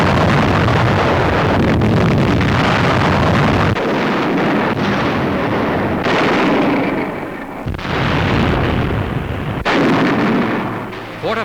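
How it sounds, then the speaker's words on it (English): Heavy bombardment from bombs and artillery pounds Japanese positions on Okinawa, a loud, dense roar of overlapping blasts and rumbling detonations that continues almost without pause, with several sharper bursts breaking through the din. "From the air and by artillery, their positions are blasted."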